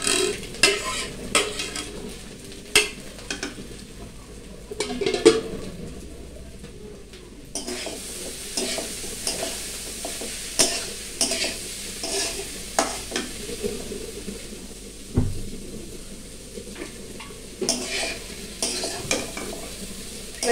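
Rice stir-fried with ground black pepper for Bengali fried rice crackles in a pan under repeated scraping and clanking of a metal spatula. The stirring strokes come in an irregular rhythm, close and fairly loud.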